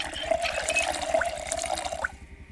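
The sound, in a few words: filling water bottles in Project Zomboid video game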